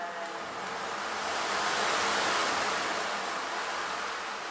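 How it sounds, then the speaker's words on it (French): Sea waves wash in a steady broadband rush that swells toward the middle and eases slightly at the end, with no voices present. "Bercé par les vagues de la mer."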